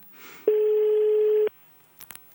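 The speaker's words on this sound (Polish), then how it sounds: "to na razie odliczamy sygnały. Będzie pięć sygnałów." A single long telephone ringing tone while a lottery prize winner is being called, one steady loud beep lasting about a second, followed by brief faint clicks and near silence.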